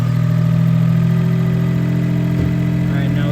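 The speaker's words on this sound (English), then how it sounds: "I think if I put it back up, it'll probably start surging again." A Suzuki Cappuccino's small engine idles steadily after a manual idle adjustment, a close, even hum with a low drone; a voice speaks briefly over it.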